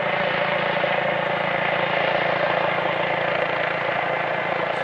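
Police helicopters fly over Clermont at night, giving a steady, droning rotor and engine hum that stays constant and fairly loud throughout with no break.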